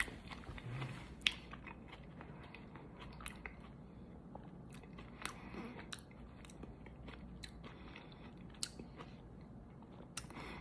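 Close, repeated crunching and chewing of Ethiopian food with cabbage, carrot and potato, bites landing in an irregular rhythm over a low, steady background, with no talking.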